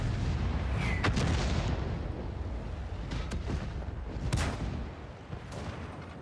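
Tank cannon shots in a tank video game, Tier 5 UK vehicles: a few sharp booms at irregular intervals over a low rumbling battlefield background, moderately loud with no talk.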